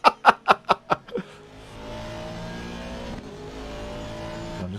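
GT3 race car engines in a racing video game at Bathurst: five quick rhythmic roaring bursts, then a steady, loud, droning engine note that carries on.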